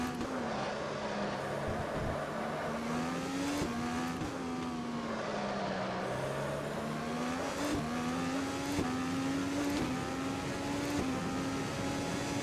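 IndyCar race cars at Adelaide in Automobilista, a steady high engine whine close by with pitch rising and falling through gear shifts as other cars pass, continuous and loud with no talk.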